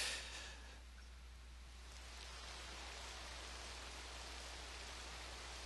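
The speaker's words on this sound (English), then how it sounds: "Been decades since it's rained like this." Steady rainfall in the Azure Dreams video game, desert city setting, a soft continuous hiss of drops that stays even and faint throughout, alone without any talking.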